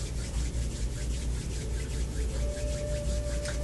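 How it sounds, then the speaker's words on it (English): Two hands rub together in steady, continuous back-and-forth strokes, a close, soft, dry friction swish with no talk. "you can rub your hands together and maybe sense a warmth there"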